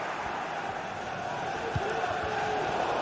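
Stadium crowd noise in a football video game, a dense, steady roar of a large crowd with brief thumps and a rising swell, under faint commentary.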